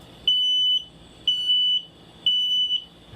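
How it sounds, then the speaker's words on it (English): A smoke alarm going off indoors, sounding three loud, sustained high-pitched beeps in a regular rhythm, each about half a second long, with brief gaps between them. "Fire alarm."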